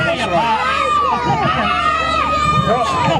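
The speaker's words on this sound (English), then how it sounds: "Why are you all shouting?" Crowd of children shouting and cheering at a dinosaur show with a velociraptor, loud continuous overlapping excited voices filling the whole stretch.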